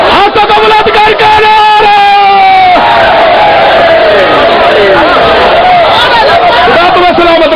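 A large crowd at a religious gathering shouts the slogan Naara-e-Haidari in unison, a loud, sustained chorus of raised voices rising and falling together.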